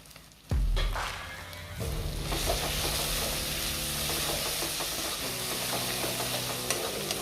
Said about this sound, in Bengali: আবার 1 মিনিট ধরে আমি এটাকে এভাবেই কষিয়ে নেব।